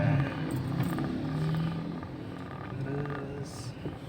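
A car engine picks up speed in second gear on a public road during a driving lesson, a low, modest rumble that rises and falls slightly, with faint background noise and no clear talk.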